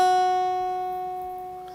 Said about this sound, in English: When we go from the 1st fret to the 2nd fret,